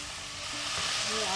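Whole spices fry in hot oil for rogan josh, giving a dense, steady sizzle that swells slightly over a short moment, close and continuous.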